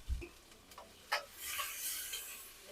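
Chillies and onions with asafoetida sautéing in a pan for dal makhani: soft sizzling and scraping stirs with a few light utensil taps, fairly quiet and close, with no talking.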